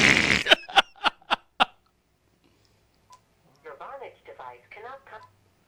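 Cell phone dialing tones, a quick run of five loud, evenly spaced beeps that cuts off, followed after a pause by a faint blip and then indistinct chatter from the line.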